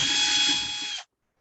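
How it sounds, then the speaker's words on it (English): A power drill whirs steadily as it backs screws out of the power supply in the bottom of a VCS F8 controller case, one continuous close, loud run of about a second that cuts off abruptly into silence. "now what I'm going to do is get my handy drill out again"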